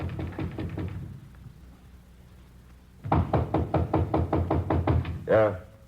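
Police officers pound on a door in a burst of quick knocks, a pause, then a longer, louder run of rapid knocks, close by, with a voice cutting in at the end.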